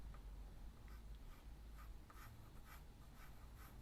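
Pencil sketching on paper: soft, close scratchy strokes in a loose irregular rhythm, quiet and continuous for several seconds with no talk.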